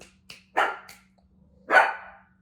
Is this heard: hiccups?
no